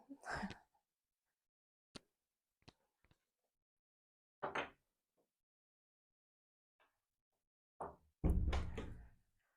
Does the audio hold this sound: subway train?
no